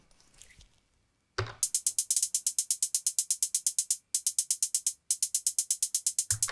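Roland TR-8S drum machine running a pattern with ratchet probability, bright rapid clicking hits in a steady stream, some steps firing once and others doubling, with brief gaps; a soft rustle precedes it and a low thump ends it.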